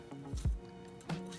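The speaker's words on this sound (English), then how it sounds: "you can have nice cubes when you scoop the avocado into the salad" A spoon scoops a ripe avocado half into a bowl of ahi tuna poke salad, giving a couple of soft, close, wet squishing scrapes.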